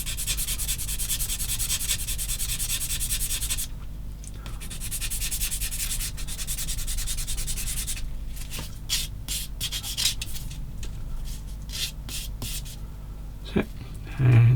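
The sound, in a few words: sanding a 1/16 Takom M10 Achilles model tank part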